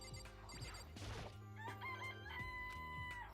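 A chicken crows in the video game Danganronpa, a faint stretched call set against quiet tonal game music and a brief crash.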